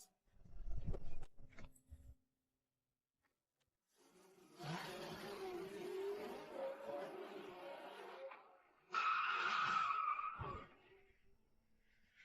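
An ordinary car driven hard in a racing test, bursts of engine roar and skidding tires in separate runs with short silent gaps, a sharp tire squeal toward the end.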